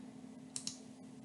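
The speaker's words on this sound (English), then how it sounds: "you'll click on this Meet link" Mouse clicking on a Google Meet link, two quick soft clicks close together over a faint steady hum, quiet and close.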